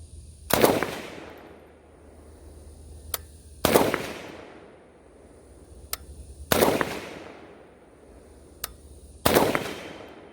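An AK rifle with a Trijicon SRO sight fires at targets outdoors, four sharp, loud shots spaced about three seconds apart, each trailing off in a long echo, with fainter distant pops heard between them.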